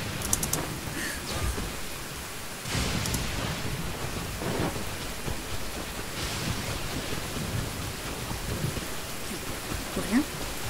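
Thunderstorm with steady rain in Genshin Impact, continuous hiss of rainfall with rumbling thunder rolls and a sharper crack partway through.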